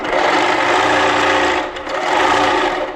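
A Handi Quilter moveable longarm quilting machine stitching in a showroom, its fast steady mechanical whir loud and close for several seconds, with a brief dip in the middle before running on.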